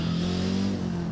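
A turbocharged flat-four engine in the BeamNG driving game revs hard with a steady, buzzing drone that holds at high pitch and then eases slightly near the end, loud and close with no other sound.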